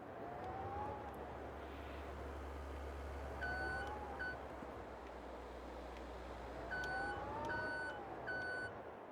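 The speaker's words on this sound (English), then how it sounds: "they're going to let me borrow their forklift, and I'm going to try to reverse this thing up here" Forklift reversing in the video game Farming Simulator 22: a series of evenly spaced electronic reversing beeps in two bursts over a low engine hum, moderately loud, with no talk.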